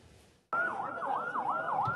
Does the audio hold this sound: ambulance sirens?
yes